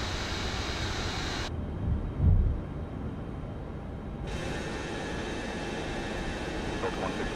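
Boeing 707 climbing after takeoff in MSFS 2024, a steady broadband engine roar with a muffled stretch in the middle before the full rushing sound returns.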